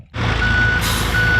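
A dump truck at a stream restoration construction site sounds its reversing beeper, steady loud tonal beeps over a deep idling diesel rumble, close by.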